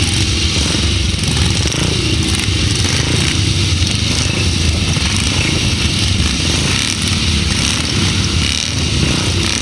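Pre-1975 motorcycles race a heat on a grasstrack at the 2006 Bewdley Bonanza, a loud, continuous roar of several engines blending together and holding steady throughout.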